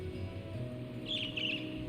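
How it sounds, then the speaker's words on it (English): Short bird chirps in the video game Trails of Cold Steel, a brief bright twittering burst midway through, set over a steady low game background hum. "That is a bird."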